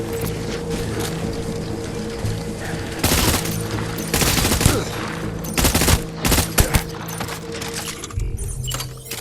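Gunfire in the video game Death Stranding, bursts of rapid automatic shots in loud clusters over a humming background, with several separate volleys spread across the stretch and no voices.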